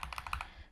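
Several quick computer keyboard key presses on a Mac, about six crisp clicks in a short rapid burst, close and clear with no talk.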